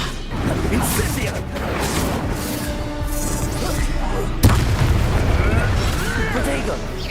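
Fire spell cast in Hogwarts Legacy during combat, a loud roaring burst with booming impacts and a sharp blast midway, layered over battle noise.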